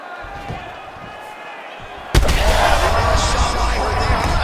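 A sudden heavy thud lands mid-clip in a UFC 5 fight between Katlyn Cerminara and Viviane Araujo, a massive head kick followed by loud sustained crowd roar.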